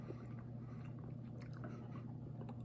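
Close, soft chewing of a chocolate macaron with a crisp outer shell, quiet moist bites over a steady low hum, with no talking.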